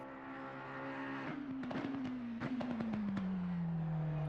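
A GT race car engine in Assetto Corsa Competizione on the Silverstone track holds a steady, loud drone. Its pitch slides gradually downward, with rapid rattling bursts in the middle as the car shifts and works through the lap.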